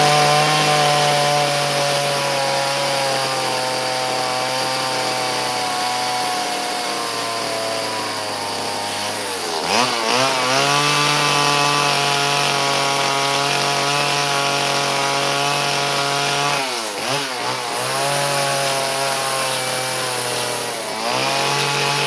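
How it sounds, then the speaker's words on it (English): Chainsaw carving a winter cardinal sculpture from wood, its engine droning steadily and loud, with two sharp revving dips and surges as the blade bites into the workpiece. "so that hopefully I don't chip them off with a chainsaw"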